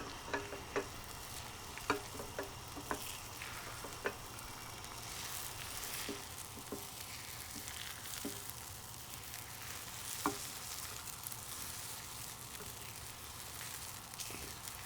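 Scrambled eggs, four at a time, frying in a non-stick pan while being pushed toward the middle, a steady soft sizzle with small scraping clicks of the utensil scattered throughout, fairly quiet and close.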